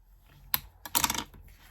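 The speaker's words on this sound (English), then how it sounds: "with a bone folder, we are going to fold in half" Card paper is folded in half and creased with a bone folder for a double block pop-up card: a sharp crisp crackle, then a quick cluster of dry, close paper clicks and rustles.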